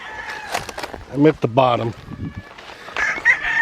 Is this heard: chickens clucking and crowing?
yes